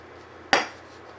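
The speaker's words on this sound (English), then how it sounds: "it's like a couple pans and then like a plate to eat off of, and I got silverware in here" A single sharp metallic clink rings out as pans and silverware from a camping cooking set knock together, ringing briefly before fading under a low steady hum.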